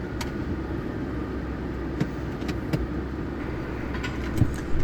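Recovery vehicle engine pulling to take up slack in a kinetic rope, a steady low motor drone heard from inside a vehicle with a few faint clicks and knocks.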